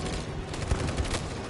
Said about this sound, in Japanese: あ、援護射撃。